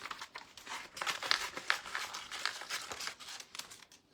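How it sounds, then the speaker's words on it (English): Paper being cut out and handled with scissors while upcycling a cabinet door, close crinkling and snipping in quick irregular bursts, with no talking. "I'm going to cut this out because I do want this text right here"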